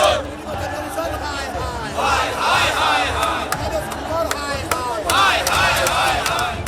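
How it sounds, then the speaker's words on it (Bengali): Crowd outside the Chief Electoral Officer's office chanting slogans and counter-slogans at a night protest, a loud, dense mass of overlapping shouting voices rising and falling in rhythmic bursts, with sharp claps or knocks cutting through. "চলতে থাকে স্লোগান পাল্টা স্লোগান"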